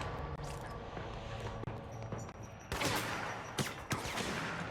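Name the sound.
gunfire in the video game Control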